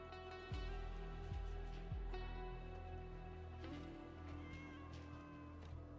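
A pet cat meows close to the microphone, a few short calls over steady background game music and a faint voice.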